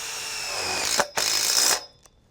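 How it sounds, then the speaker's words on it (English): A power driver tightens a screw through a tube strap into the purlin of a caterpillar tunnel frame, a loud whirring burst that briefly stops, resumes, then cuts off, close by with no talking. "tighten down this first screw"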